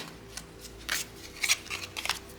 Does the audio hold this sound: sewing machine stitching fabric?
no